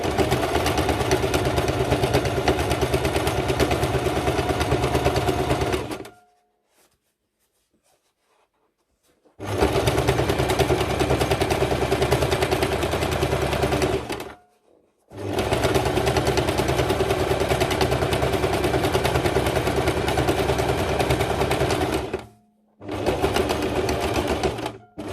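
A sewing machine stitches a fabric needle holder in steady, loud bursts of rapid mechanical whirring, stopping for several seconds between runs, with no talking.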